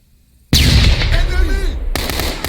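A flashbang goes off during close-quarters room-entry training, a sudden loud blast after near silence, followed by a ringing, rumbling tail and a second sharp burst soon after.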